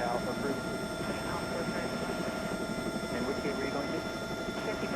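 A Bell 206 helicopter in X-Plane 11 drones steadily with a continuous rotor and turbine roar, loud and unbroken throughout, with faint voices beneath.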